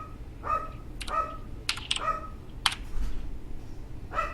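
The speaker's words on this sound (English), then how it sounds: "We can hear Boo's dog in the background" Ginger, a pet dog, gives a few short barks spaced out in the background, mixed with quick clicking from a computer keyboard being typed on nearby.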